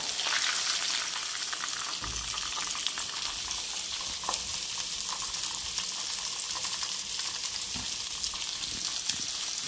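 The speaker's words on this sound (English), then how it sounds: "This how you fry some turkey chops" Turkey chops fry in a pan with a steady, close sizzle and crackle, broken by a few soft stirring or handling knocks; no one talks.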